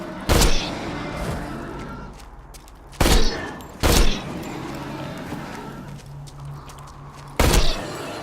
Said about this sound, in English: If I fire 2-round bursts.